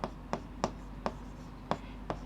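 Chalk or pen strokes while writing out a maths step for a Class 10 geometry lesson, six short crisp taps and scratches at an irregular, fairly quick rhythm, close and moderately loud over a low background hum.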